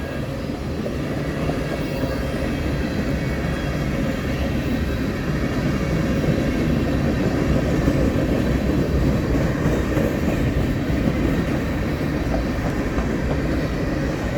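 A long manifest freight train rolls past in Fremont, Nebraska, its steady, loud rumble and rail noise continuous and close throughout, with faint clickety-clack from the wagons and no voices.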